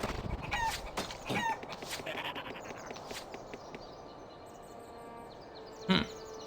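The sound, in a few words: chicken clucking from the chicken gun in Dungeon Siege, a video game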